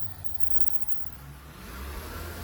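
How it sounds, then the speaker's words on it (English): A FedEx delivery truck rolls past outdoors, a steady low engine rumble and road noise that swells slightly as it draws nearer, with no talking over it. "I want to let the FedEx truck ride by."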